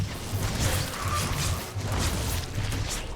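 Protoss Oracle ship attacking Zerg drones in StarCraft 2, a steady layer of game sound effects with low rumbling pulses and scattered hits and whooshes running continuously.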